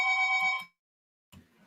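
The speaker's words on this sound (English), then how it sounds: "someone's ringing" A telephone gives one electronic ring with a bright, buzzing tone that lasts under a second. Silence follows, then a faint rustle.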